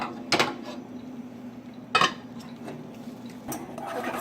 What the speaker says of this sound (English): And we're going to put the lid back on.